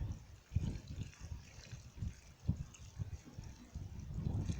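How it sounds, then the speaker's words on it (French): Lettuces freshly planted in a garden bed being watered, water splashing and trickling in soft, uneven bursts over about five seconds, fairly quiet with no voices. "On va les arroser un petit peu."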